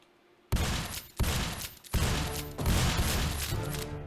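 Shotgun blasts in a Ludum Dare 40 video game: after a quiet start, three loud booming shots land about a second apart, then merge into a dense, continuous volley of fire.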